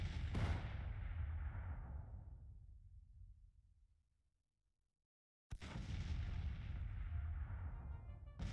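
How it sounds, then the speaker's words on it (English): Artillery guns firing in the video game Grand Tactician, a dense roar of booming fire that fades away over several seconds, then after a short silence bursts back in loud and sustained. "Our guns are opening up as well."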